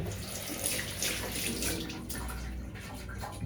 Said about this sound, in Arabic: تمشيها تاني تحت المية، تشطفها بس كده يعني، يجي عليها مية وتنزل